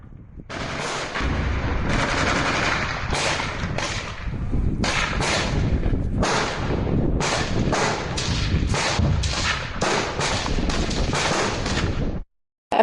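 Heavy battlefield gunfire from all weapons in the urban fighting at Bakhmut, loud repeated bursts of rifle and machine-gun fire with thudding blasts, overlapping almost continuously before cutting off abruptly.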